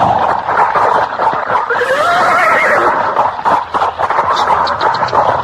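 A horse whinnies mid-clip amid a busy, loud radio-drama scene, its rising and falling call sweeping over a dense bed of voices and clattering noise.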